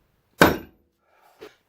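A lump hammer strikes a rivet once, a sharp close metallic clang that rings briefly and fades, followed about a second later by a much softer tap.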